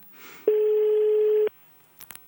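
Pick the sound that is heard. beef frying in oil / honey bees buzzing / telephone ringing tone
telephone ringing tone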